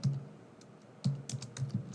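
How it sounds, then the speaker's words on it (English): Keys on a computer keyboard are tapped in short uneven bursts while a message is typed, close-up clicks with brief pauses between clusters and no talking. "in the body field, I am going to type the message for my team as this"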